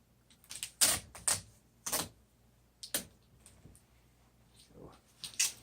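Adhesive tape is pulled off the roll and pressed down onto a seat in several sharp, crackly rips spaced a second or so apart, close to the microphone.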